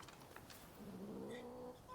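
Calico cat in Rise of the Ronin letting out a drawn-out, sulky meow midway, fairly faint against a soft ambient game background.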